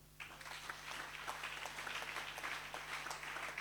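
A church congregation claps steadily, with dense, even applause from start to finish over a low, constant electrical hum.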